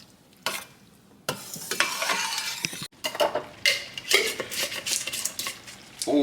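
Coconut milk curry sauce with curry powder and seasonings heating toward a boil in a pan, giving a steady close sizzle with stirring scrapes and occasional utensil clinks against the pot, with no talking.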